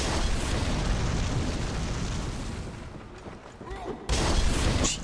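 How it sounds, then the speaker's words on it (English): An enemy's bombs explode in Bloodborne, a dense, continuous roar of blasts that dips briefly before a sharp, loud burst near the end, with a voice talking underneath. "It seems like he doesn't take damage from his own bombs"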